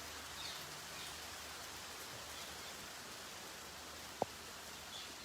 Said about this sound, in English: Но дождь идет и источается прекрасный аромат дождя и свежей земли.